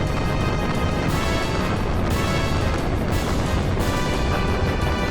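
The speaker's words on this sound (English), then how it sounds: "The gate's on fire." A burning gate in the Xenogears video game gives off a constant roaring, crackling blaze with dull rumbling surges, loud and continuous throughout.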